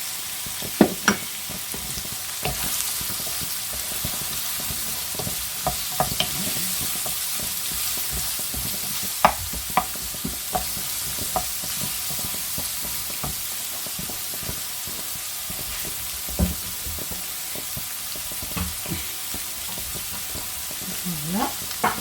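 Onions frying in oil in a wok, a steady close sizzle with scattered crackles and pops and occasional stirring scrapes, continuous with no talk.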